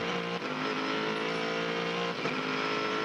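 Sports race car heard on board at the Adelaide street circuit, engine holding a loud steady high whine with a brief dip as it shifts, constant and close.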